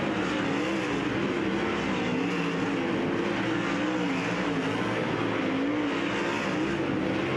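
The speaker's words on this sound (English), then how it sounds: "as we go to green flag action once again. This is Dirt Draft Hot Lap session number 3." Dirt track sprint cars roar around 141 Speedway during a hot lap session, a loud steady engine drone with a wavering pitch as the cars circle the oval, far off and continuous.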